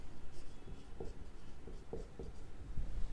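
Pen writing figures on paper during an accounts lesson: several short scratchy strokes at close range, irregular bursts with small pauses between them, no talk over it.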